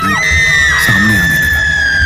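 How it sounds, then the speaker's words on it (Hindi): A woman lets out a loud, wavering, sustained scream of horror in a Hindi horror audio drama, a high shrieking cry over a dense, rumbling dark background. "माया चीखने चिल्लाने लगी"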